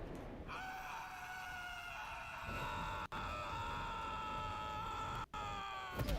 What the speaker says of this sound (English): I love this dude's scream